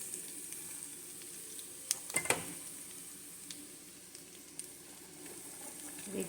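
Vegetables such as carrots and cabbage being stir-fried and mixed for pancit bihon, a steady low sizzle with a few brief clatters of utensils against the pan near the middle, no talk.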